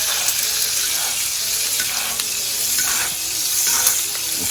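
Steak sizzling hard in a hot iron skillet while being basted, a loud continuous crackling hiss with small splattering pops throughout.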